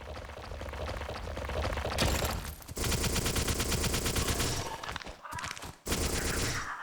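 Rapid video-game gunfire while the character backpedals, a dense, loud burst of repeated shots with brief gaps near the end and no talking.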